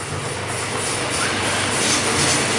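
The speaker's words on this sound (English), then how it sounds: "Just got a train going past" A train rumbles past outdoors, a steady loud roar of wheels and carriages that fills the whole stretch without letup.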